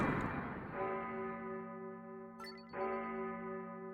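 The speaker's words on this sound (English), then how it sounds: "this is the bell that plays when the game says, no, really, it's over, you're done" A bell tolls at the end of a game of Vampire Survivors, a resonant ringing tone that lingers and fades with a sustained hum, struck again partway through, fairly faint and with no talk.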